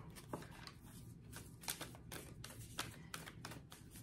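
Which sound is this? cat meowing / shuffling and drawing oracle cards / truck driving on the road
shuffling and drawing oracle cards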